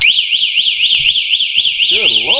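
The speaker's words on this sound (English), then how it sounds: "so the alarm is already installed on the bike" Built-in alarm on an Electric Bike Company Model R e-bike blaring loudly and close, a rapidly warbling siren that keeps cycling without pause, with a person's voice underneath and a second, lower siren pattern joining near the end.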